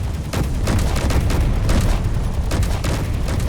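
A railgun fires in the video game Space Engineers amid a battle, with a string of heavy booming blasts and sharp cracks repeating irregularly over a constant low rumble.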